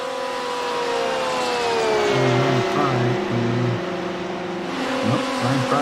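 Race cars running close together in a pack at Daytona, engines droning and shifting in pitch with a steady roar throughout, heard under a commentator's voice.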